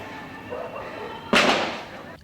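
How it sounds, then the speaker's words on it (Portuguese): A single sharp gunshot from a firearm cracks out loudly in news footage, heard over a background of voices and street noise. "escutar o barulho do disparo de arma de fogo"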